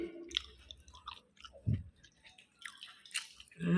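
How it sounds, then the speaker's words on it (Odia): Close, quiet chewing and wet squishy bites while eating pakhala rice with fried suji greens and pumpkin flowers, irregular mouth sounds with a few soft crunches and drips and no talk. "ମୁଁ ଖାଉଛି, ବହୁତ ଟେଷ୍ଟ ବି ଲାଗୁଛି।"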